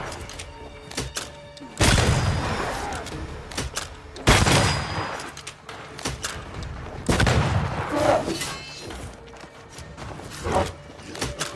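Gunfire rings out from a corpse enemy in Banishers: Ghosts of New Eden, with heavy thudding shots bursting at irregular moments over constant game ambience.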